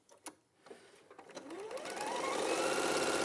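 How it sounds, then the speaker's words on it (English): A sewing machine stitches fabric triangles using a 1/4 inch foot, its motor whirring up from a few soft clicks into a steady, fast, close hum with no talking. "we're just going to sew all of these onto the side of the smaller triangles to make those bigger triangles"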